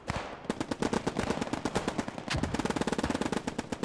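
Machine gun fire in the realistic WWII shooter Post Scriptum, a continuous rapid stream of sharp overlapping bursts from several guns, dense and loud without pause, like a heavy firefight through woodland.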